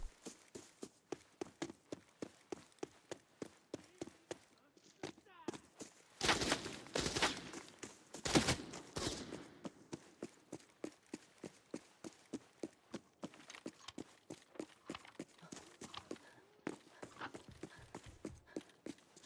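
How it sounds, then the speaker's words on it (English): Rapid, evenly spaced footsteps thump steadily in a video game, close and clear, broken midway by a few louder bursts of gunfire-like cracks before the steady steps continue. "I hear many footsteps."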